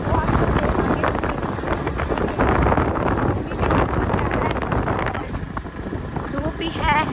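Steady broadband wind rush buffeting the microphone while riding a motorcycle on a long trip in sunny, hot weather in a village area, loud and continuous with voices talking over it.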